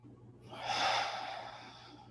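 A single slow breath drawn in and let out by one person, a soft airy rush that swells and then fades, close and quiet over a low steady hum.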